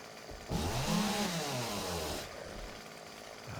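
A chainsaw in the survival game 7 Days to Die revving up loudly for about two seconds, then dropping back to a lower idle rumble.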